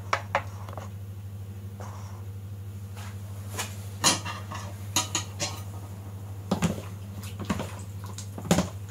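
A utensil stirs potato salad with parsley in a bowl, producing scattered clinks and scrapes against the dish over a low steady hum, with sharper knocks near the end.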